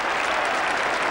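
A large cricket crowd at Edgbaston applauds England's Test victory over Australia in 1981, a dense, loud, continuous wash of clapping from thousands of spectators with no pauses.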